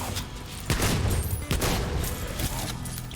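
Gunfire in Soulslinger: Envoy of Death comes as a rapid volley of close, sharp shots, several bursts over a few seconds with rumbling booms between them.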